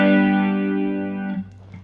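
A single electric guitar chord, strummed once with effects and distortion, rings out loud and sustained, then decays and is cut off after about a second and a half, with no talk.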